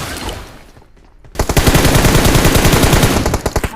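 Fully automatic gunfire rattles in the battle royale game PUBG Mobile, loud and close, as a sustained rapid burst kicks in after a brief lull and continues to the end.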